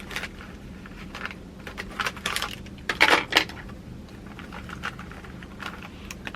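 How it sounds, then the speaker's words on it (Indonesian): Two dice shaken and rattled by hand in a quiet room, a run of light, irregular clicks and clatters with a louder burst in the middle, no one talking. "Aku bakal kocok dadunya."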